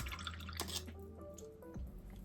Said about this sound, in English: Wash the brush.